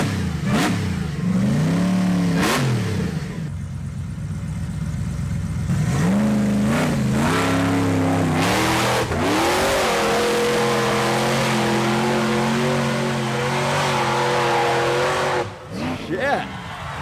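A vehicle running bolted rear tires revs hard and climbs a hill, its engine surging and dropping in loud repeated bursts with tire noise, while people talk excitedly over it.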